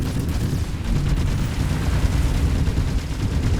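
Ship weapons firing during a space battle in the game Starfield, a dense, continuous barrage of booming, rumbling blasts and rapid gunfire, loud and sustained throughout with no pauses.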